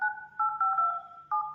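Keypad tones from a Vivo Y21 G phone's dial pad: several short two-tone electronic beeps pressed in quick succession, clear and alone with no talking.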